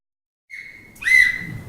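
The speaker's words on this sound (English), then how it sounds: "When you hear that whistle, it means go." A whistle gives a signal at a demonstration event: a thin steady tone, then a second, louder and slightly different pitch after a brief step, both short and fairly close, with no one talking.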